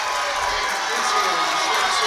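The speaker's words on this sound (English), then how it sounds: "But the crowd loves it." The crowd at a boys' varsity high school basketball game, Nordonia versus Stow, roars and cheers as a steady, broad wash of noise, with a commentator's voice faintly mixed in.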